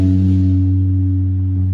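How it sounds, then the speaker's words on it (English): A single low guitar note on the low E string sustains and rings, sliding down to the second fret, loud and alone with a smooth decay. "Then you slide down to the 2nd fret while still on the 6th"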